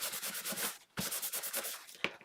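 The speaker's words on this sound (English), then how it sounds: "take a bit of kitchen towel and kind of rub that in so it's not quite as dark" A piece of kitchen towel is rubbed over scored card to lighten a dark coating, giving close, rhythmic papery scrubbing strokes with a brief pause midway and a sharp tap near the end.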